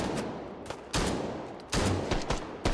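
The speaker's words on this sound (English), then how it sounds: "those Sosigs are aware of his position, are shooting in his direction" Bursts of gunfire from Sosig enemies in a shooting video game, several loud sharp volleys spaced close together, near and aggressive, with no voices.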